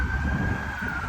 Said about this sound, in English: I hope you could hear me with all those crazy ambulances around